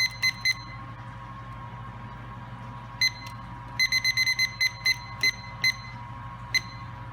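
Home-brewing timer beeping during an all-grain brew's recirculation step, sounding sharp high electronic beeps in irregular single and clustered bursts over a steady low hum.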